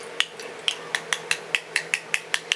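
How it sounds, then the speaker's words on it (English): Homemade hand sanitizer of aloe vera gel with tea tree and eucalyptus essential oils being stirred, heard as about a dozen sharp, evenly spaced clinks of a utensil against a container, close and clear with no talk. "You want to mix it up really good."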